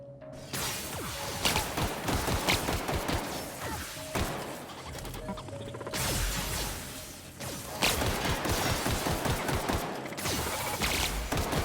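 Rapid bursts of weapon fire from the video game The Outer Worlds come in dense volleys separated by short pauses, punctuated by impacts and whooshes.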